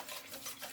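A spoon stirs banana cake batter in a bowl after sugar is added, making soft, brief scraping and swishing strokes that rise and fall at low volume, with no talking.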